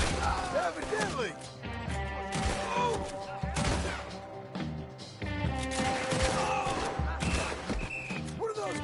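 Gunfight in Red Dead Redemption 2, with a dense volley of gunshots and crashes mixed with game music and voices, staying loud and busy throughout.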